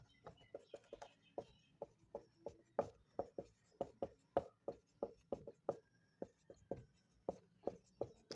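Marker or chalk strokes writing names on a board in a classroom, a brisk run of short, distinct taps and scratches repeating steadily throughout, close and fairly quiet, with no talking.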